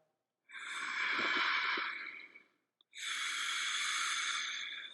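Two long, slow breaths during a yoga flow: a steady airy exhale of about two seconds, a brief pause, then another sustained breath, close and soft with no talking.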